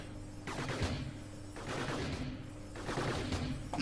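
Robots in the Gladiabots strategy game trade fire, rapid bursts of small synthetic gun shots in several volleys over a low steady backing hum, moderately quiet.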